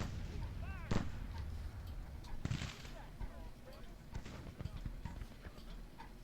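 Artillery fire in Grand Tactician: Civil War, a battlefield of cannon booms with clattering hooves and scattered gunfire beneath an ongoing mix of voices; a couple of louder blasts stand out amid the dense background din.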